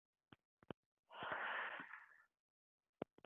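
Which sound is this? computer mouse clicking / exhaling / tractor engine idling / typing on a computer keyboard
exhaling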